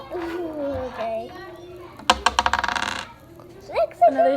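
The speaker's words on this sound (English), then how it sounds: "You can roll the dice." Children roll dice onto a hard surface during a kindergarten math game, a sharp clatter followed by a quick run of rattling bounces, close by, with children's voices talking before and after.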